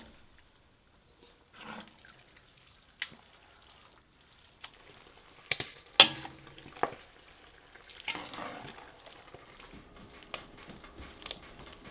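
Pork fat rendering into lard in a pot, the mixture still holding bits of skin, hair and meat, with a low steady sizzle broken by scattered clicks, stirring scrapes and louder bursts, close by and with no talk.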